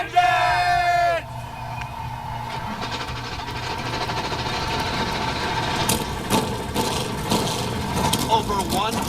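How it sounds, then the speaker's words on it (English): Forty race car engines firing up at the Daytona 500, a rising chorus of idling and revving motors that settles into a steady mechanical drone under a talking voice. "The engines have fired downstairs. 40 cars have come to life."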